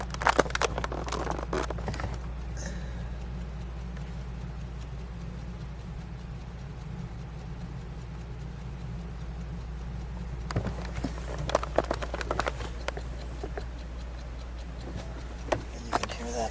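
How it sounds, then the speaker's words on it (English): The dashboard clock of a white 1963 Mercedes-Benz 300 SL Roadster ticks faintly and steadily over a low, constant hum, with a few sharper clicks and rustles near the start and toward the end. "And you can hear that clock running."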